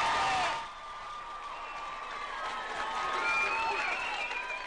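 Crowd in a packed room applauding and cheering to welcome Labour leader Jacinda Ardern: a dense, steady wash of clapping and cheers that swells at the start and carries on without a break.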